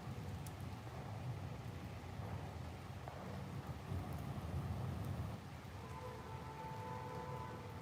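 Steady rain with low rumbling thunder rolling underneath, a continuous wash of noise with a slightly heavier surge of rumble midway before settling back to an even downpour.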